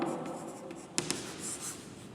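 Writing on a board during a physics lesson: a steady scratchy stroke sound across the whole stretch, with two sharp taps near the middle, close and fairly quiet, with no talking.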